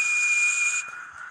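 A shrill, steady whistle from a train, sounding loud and alone for about a second before cutting off.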